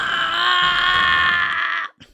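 A person's voice imitates an anime scream: one loud, sustained, high-pitched wail lasting almost two seconds, then cut off abruptly, followed by a brief faint breath.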